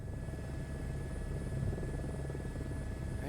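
Helicopter turbine engine in Microsoft Flight Simulator 2024, a steady, loud low rumble with a constant whine, sustained throughout at idle before lift-off on a helipad.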